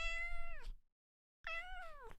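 Two clear meows from a pet cat named Nova, each a drawn-out, harmonic-rich call with a falling end, separated by a short silence and heard up close with no talking.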